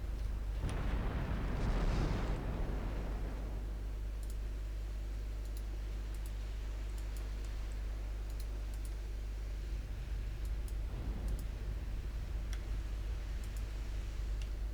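Torpedo hits and 18-inch shell explosions in the naval game Ultimate Admiral Dreadnoughts, a loud heavy boom early that rumbles away, then a second softer blast near the end over a low steady hum with faint ticks.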